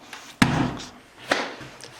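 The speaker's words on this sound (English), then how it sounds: "Please don't close the door" A door being pushed shut, giving a sharp slam followed shortly by a second softer knock or latch thud, close by in a quiet room.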